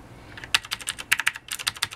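Close, crisp keystrokes on an Uber Elite backlit keyboard, a stiff, solid board with no flex, tapped in quick irregular bursts with short pauses between clusters, no voices.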